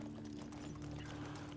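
Horse hooves clip-clop steadily in the medieval life-sim game Medieval Dynasty, a continuous rhythmic trot set against a constant low ambient hum at moderate level.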